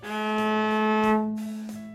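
Open A string of a cello bowed as one steady held note with bright overtones, sounding close and even, with light bow-change bumps along the way.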